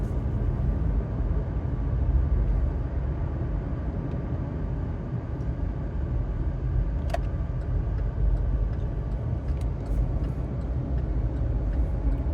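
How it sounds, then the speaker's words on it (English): Interior road noise of a car driving through downtown Cape Coral, Florida: a steady low rumble of engine and tires, continuous and fairly loud, with a few faint clicks. "I got to keep my eye on the road as I drive"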